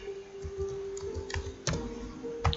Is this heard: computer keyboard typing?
yes